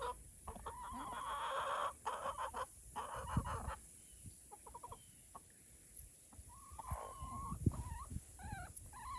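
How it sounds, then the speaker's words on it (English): Chickens in a backyard garden coop cluck and squawk in scattered, overlapping calls, fairly faint and somewhat distant, with rustling between the calls and no talking. "now I'm going to check on the chickens, see what they're up to"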